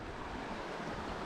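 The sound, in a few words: river water flowing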